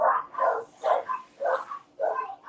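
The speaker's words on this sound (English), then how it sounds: "The doggos want to act belligerent tonight." Several dogs bark in short, bunched bursts, yips and woofs overlapping in a close, loud, rough rhythm with brief pauses between volleys; no speech is present.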